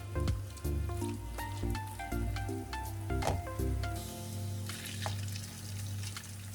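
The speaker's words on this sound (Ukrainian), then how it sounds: "Смажимо, як звичайні оладки." Pumpkin and potato fritters sizzle steadily in a frying pan over fairly low heat, a continuous crackling hiss with scattered sharp pops and a low hum beneath, no talking.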